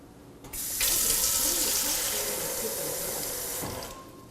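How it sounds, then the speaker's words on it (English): A voice-controlled Kohler kitchen faucet pours water into a Genair water reservoir, a steady, fairly loud rush that starts abruptly, runs about three seconds and then cuts off. "we've programmed our Kohler faucet to fill certain amounts of water, and we're going to use our Genair reservoir as an example"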